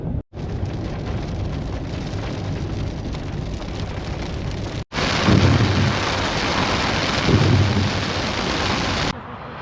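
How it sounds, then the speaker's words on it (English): A storm roars with heavy rain and rumbling thunder under strong, ice-cold wind, loud and continuous, swelling into deeper rumbles partway through on a cross-Canada road trip in Alberta. "The wind coming out of this storm right now is ice cold."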